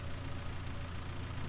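Tractor engine idling in Farming Simulator 19, a steady loud diesel rumble with a rough, slightly knocking texture, continuous and close with no talk.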